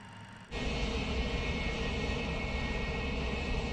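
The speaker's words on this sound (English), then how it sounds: "We're just taxiing along on idle." MD-88 airliner in a flight simulator taxiing with its jet engines at idle, a steady broadband whine and rumble rising in loudness after a brief quieter start and then holding constant.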